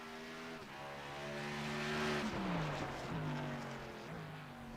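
An iRacing stock car at Circuit Zolder brakes hard into a hairpin. The steady engine drone swells, then its pitch drops sharply as it slows, and it climbs again on the exit, close and loud with no talk.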